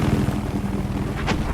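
Helicopter in a competitive Noxia versus Lacross video game match, a steady low rotor drone running continuously throughout with a brief higher whoosh near the end.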